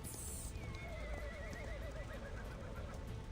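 A black horse in Reverse:1999 lets out a long wavering neigh, loud and clear over a noisy rumbling background, with no talking.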